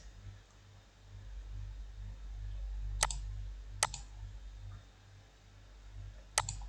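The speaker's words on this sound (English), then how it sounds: "and click submit" Three sharp, quiet mouse clicks in an admin panel, spaced irregularly over a low electrical hum in a quiet room with no one speaking.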